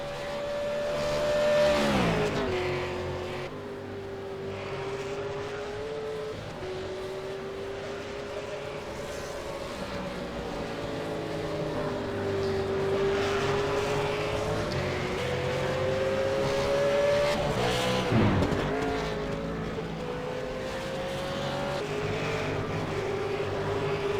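V8 Supercars race cars lapping a circuit in the 2016 Americas series, engines droning loudly and continuously with shifting pitch as cars pass, a sharp swell around the middle of the run and again near the end.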